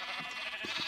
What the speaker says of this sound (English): Excuse the sheep.